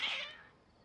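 Short single cat meow, a brief high-pitched call that fades quickly, quiet and alone with no talk.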